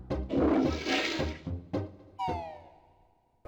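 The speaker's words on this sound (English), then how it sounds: "You even get to turn into a pumpkin and flush yourself down a toilet to find a Jiggy." A cartoonish toilet flush from Banjo-Kazooie on the Nintendo 64 plays as a pumpkin gets flushed, with rushing watery bursts followed by a sliding, descending synthesized tone that fades away.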